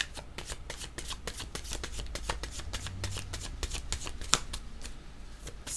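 Tarot cards riffled and shuffled in a steady run of quick, crisp flutters, close and fairly loud, with no voice over them.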